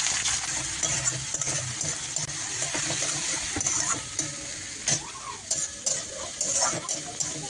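Onion frying with grated ginger, cumin paste and green chilli in a pan, a bright sizzle with clinking, scraping stirs and a splash of liquid, close and fairly loud.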